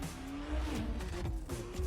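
A 2021 Acura TLX Type S drives past with a steady engine and exhaust note, rising slightly in pitch, mixed with tire noise as it drifts around a turn.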